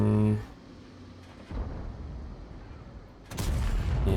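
Tank gun fire from the Concept No 5, a British tier 10 wheeled medium tank in World of Tanks: two heavy booming shots a couple of seconds apart, the second louder, with someone talking underneath.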